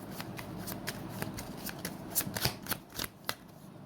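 A deck of tarot cards is shuffled up close, with a quick train of crisp flutters and taps that grows busier and louder toward the end.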